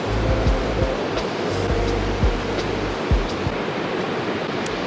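Ocean surf rolling onto a beach during early-morning surf fishing, a steady loud wash of breaking waves with low thumps and rumbles, no voices.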